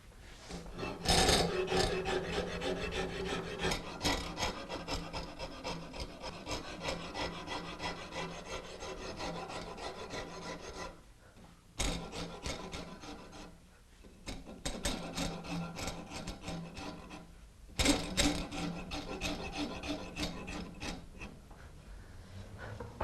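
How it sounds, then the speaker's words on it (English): A wood rasp files a carved wooden ball and claw foot held in a clamp, producing steady, continuous scraping strokes with brief pauses between passes, close and alone with no talking. "Very light touch with the rasp this time"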